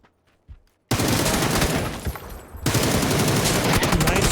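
Sustained automatic gunfire in the battle royale shooter PUBG during a competitive match: a dense, loud burst of rapid shots that cuts in suddenly, dips briefly and then resumes at full intensity.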